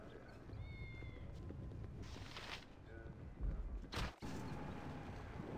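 A cat meows twice in Baldur's Gate II: Throne of Bhaal, short tonal cries over a windy, low ambient background, followed by a brief rustle and a thump.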